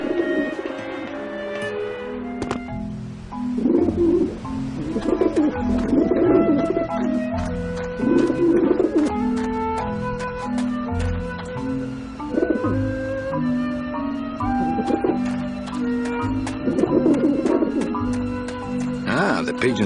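Pigeons coo in the Grim Fandango video game, low soft calls recurring through the scene over a layered game music bed with steady ambience.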